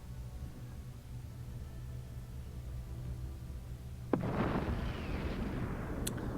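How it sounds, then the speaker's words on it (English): Swarm missiles launch in an Endless Space 2 space battle, a sudden sharp blast followed by a dense rumbling roar of salvos, loud over a low steady game drone. "we're using swarm missiles, not laser weapons, so not quite as effective as I was hoping"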